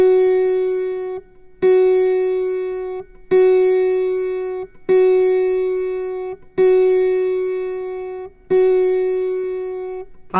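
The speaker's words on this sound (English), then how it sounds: "Move to the next F sharp, located in the middle octave, the 18th string, and match this pitch." The middle-octave F sharp on the 18th string of an autoharp is plucked six times at even intervals, each note ringing out bright and clear and decaying before the next, with no voices.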